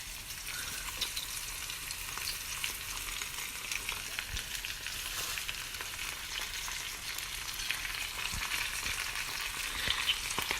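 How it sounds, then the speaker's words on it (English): Broccoli rabe frying in hot oil, a steady, loud sizzle with dense crackling and sputtering pops throughout, no voices. "The oil's gonna be sputtering a lot, so I'm standing all the way over here."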